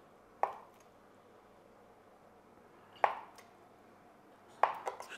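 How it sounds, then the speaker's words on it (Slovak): A knife slicing tofu into thick centimetre slices: three separate crisp chops against a cutting board, spaced a couple of seconds apart and fairly close, in a quiet kitchen. "Tofu nakrájame na takéto hrubšie centimetrové plátky."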